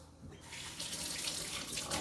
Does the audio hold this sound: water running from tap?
yes